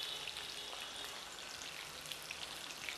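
Egg-battered chicken pieces fry in hot oil for a Chinese-style chili chicken, giving a steady, dense sizzle with scattered crackling pops throughout and no talking.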